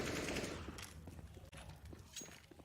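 Rapid gunfire bangs through apartment walls on the Inferno map in a Counter-Strike match, a dense burst of shots followed by scattered, muffled pops and distant clatter.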